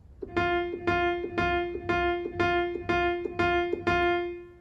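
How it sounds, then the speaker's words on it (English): A single piano F note is struck eight times in an even, steady rhythm, each strike at a similar moderate volume and ringing briefly. "this is just 8 Fs that we're just going to alter the volume of"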